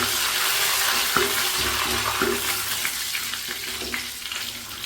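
Dried red chillies and curry leaves sizzling in hot oil for Kerala-style ozhichu curry, a loud continuous crackling fry with occasional sharper pops and spits, no voices.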